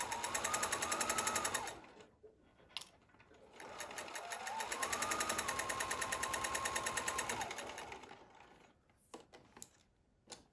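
A sewing machine stitches across the pleats of a homemade fabric face mask. It runs in two rapid, steady bursts with a short pause between, then stops, leaving a few clicks.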